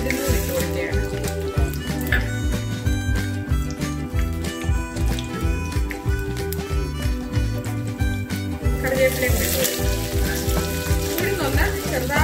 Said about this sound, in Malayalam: അതുപോലെ എടുത്ത് വെച്ച് ഉഴുന്നൂർ ഇട്ട് കൊടുക്കുകയാണ്.